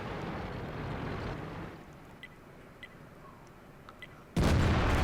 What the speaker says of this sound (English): artillery's coming down